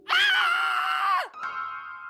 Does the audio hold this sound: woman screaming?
yes